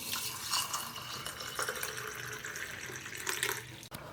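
Water pouring steadily into a glass holding coriander seeds and fennel seeds in a home kitchen, a continuous close splashing trickle lasting several seconds with no talk.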